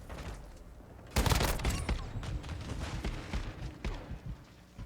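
A KV Broadside semi-auto shotgun fires in Modern Warfare 2 with one loud, close blast, followed by a burst of further rapid shots and clatter that fade under the game's ambient noise.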